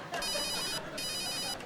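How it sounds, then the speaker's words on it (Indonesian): A telephone ringtone sounds twice in steady electronic bursts with a brief gap between them, clear and fairly close. "Telepon lagi masuk."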